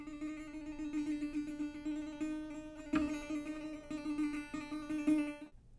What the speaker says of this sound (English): I'm bouncing the slide on the first string at the first fret.